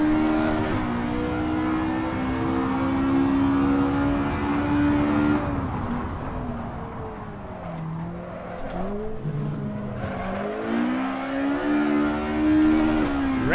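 Race car engine in the Assetto Corsa racing game revving hard, holding high sustained harmonics that sweep up and down through shifts, with tire noise beneath and no talk.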